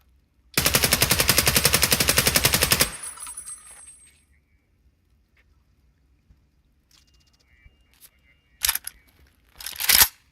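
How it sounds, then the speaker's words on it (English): An automatic weapon in a video game fires a rapid, loud burst of evenly spaced shots lasting about two seconds, then quiet, later two short, sharp bursts of gunfire. "Automatic fire at 50."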